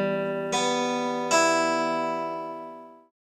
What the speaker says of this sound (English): Starting with the low E string, that sounds like this.